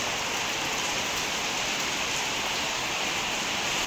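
Heavy rain falls over a village as a steady, dense hiss that stays even throughout, with no voices over it.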